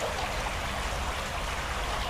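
The River Swift flowing past an old bridge site, a steady close rushing and trickling of water with no talk.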